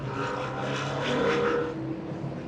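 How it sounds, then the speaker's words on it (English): Loud motorcycles roar past in a group, a dense, throaty engine drone that swells and fades slightly as they move by, heard up close with no talking. "the loudest motorcycle I have ever heard"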